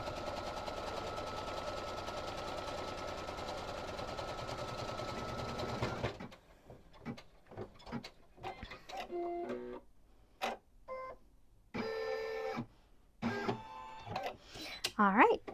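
A home sewing machine runs steadily for about six seconds while stitching the first quilt block of a Believe in Magic wall hanging, then stops; a voice and scattered handling noises follow.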